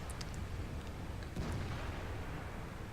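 Tank gun fire from a Borsig in War Thunder, with dull, rumbling cannon blasts mixed into constant low battlefield noise, one heavier boom standing out partway through.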